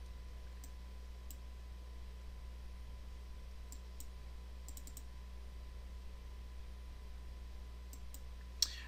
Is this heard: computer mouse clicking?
yes